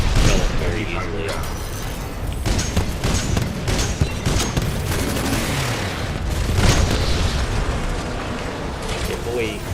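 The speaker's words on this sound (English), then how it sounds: "And now it'll shoot at both of them. Those are like guiding rockets." Guided rockets firing and bursting in Titanfall 2 make a dense, loud barrage of rumbling blasts and mechanical clatter that runs without pause, with a voice talking over the gameplay.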